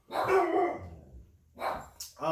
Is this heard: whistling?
no